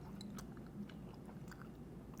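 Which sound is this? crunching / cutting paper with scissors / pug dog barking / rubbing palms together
crunching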